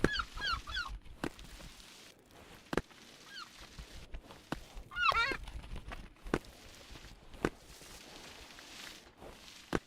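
Repeated goose-like honks from a bird in a video game, sounding in short clustered bursts near the start and again around the middle, mixed with scattered footsteps and thumps over a low background.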